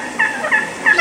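A wild turkey hen calling in spring, three short bursts of raspy, excited yelps close by with a faint background hiss between them.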